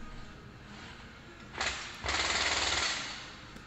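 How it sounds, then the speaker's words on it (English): Power drill driving screws at home, a harsh rattling burst that cuts out briefly and then returns as a longer grinding chatter, loud and close over background noise. "If your drill starts like skipping like that, stop pressing the button."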